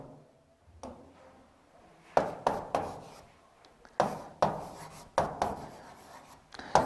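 Chalk or marker is written across a board in short bursts of scratchy, tapping strokes, with brief quiet pauses between words.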